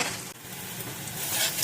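Butter chicken gravy with tomato ketchup and sugar sizzles in a hot pan while it is stirred, a steady close hiss of frying with a brief scrape partway through and no talking.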